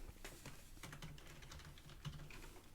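Rapid typing on a computer keyboard, a quick stream of light clicking keystrokes running steadily throughout at moderate, close volume.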